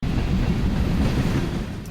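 Turkish Railway train passing in a film scene: a loud, steady low rumble of wagons rolling by for two seconds, easing slightly at the end with no voices.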